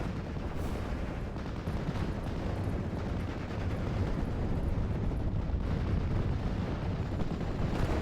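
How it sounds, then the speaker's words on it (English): Indirect artillery fire bombards allied positions in a strategy war game, a dense, continuous rumble of distant blasts and crackling impacts with no pauses or speech. "more indirect fire softening up the allied positions"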